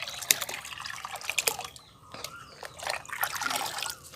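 Liquid fertilizer for a hibiscus plant pours into a ten-litre container of water, giving a close, uneven trickle and slosh with drips and small splashes, no voices.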